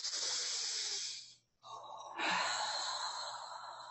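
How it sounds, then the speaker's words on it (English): A long, deep breath drawn in and then slowly released, airy and close, with a brief pause between the inhale and the exhale. "Take a deep breath."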